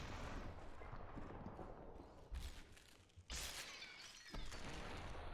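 A shotgun fires in the video game SUPERHOT, two sharp, loud bursts a second apart that cut through a dense, noisy game background, each followed by a brief crackling decay.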